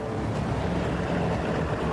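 Tugboats at the Port of Rotterdam straining at full power while towing a heavy square platform, their engines a steady, dense low rumble mixed with wind and water noise, continuous with no talk.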